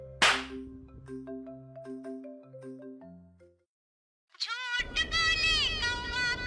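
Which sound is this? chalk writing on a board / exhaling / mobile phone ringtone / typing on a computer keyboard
mobile phone ringtone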